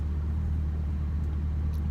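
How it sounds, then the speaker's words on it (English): A car passing on a nearby road, heard as a steady low rumble of engine and tire noise that holds evenly for a couple of seconds with no talking over it. "Car went by."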